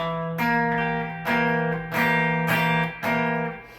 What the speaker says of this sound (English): we're going to mute the B string with this finger right here.